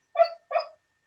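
A sleeping dog lets out two short, muffled yips close by, evenly spaced with silence around them, as it dreams.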